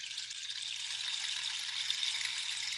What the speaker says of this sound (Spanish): Es el llamador de agua. Es un instrumento muy autóctono de los indígenas.